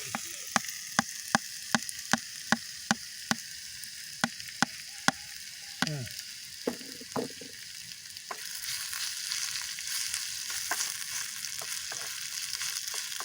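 Garlic, shallots and eggplant frying outdoors in a garden, a steady close sizzle with sharp ticks and pops that thickens into a denser hiss partway through.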